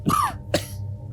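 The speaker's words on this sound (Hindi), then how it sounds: "इतना खांस रहे हो, दवाई नहीं ली क्या?" An elderly man coughs twice in quick succession indoors, two short harsh bursts close to the listener with a brief gap between them.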